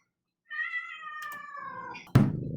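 A pet cat lets out a single drawn-out meow up close that lasts more than a second, followed by a sudden thump as the sound ends.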